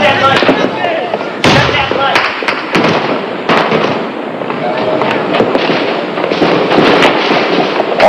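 Night attack on the city of Usulután during the Salvadoran civil war: loud, sharp bursts of automatic weapons fire mixed with heavier grenade and mortar blasts, cracking in irregular clusters throughout.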